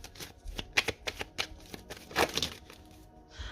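Tarot cards handled and laid onto a spread, producing a rapid run of soft flicking and snapping card sounds, close and fairly quiet, with a brief slide at the end.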